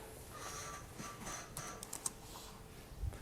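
Faint, quiet computer keyboard typing, a few light scattered key taps over a low steady room hum with no speech.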